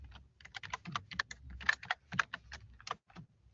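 Quick, close, crisp typing of code on a computer keyboard, with dense runs of clicks and short gaps and no speech.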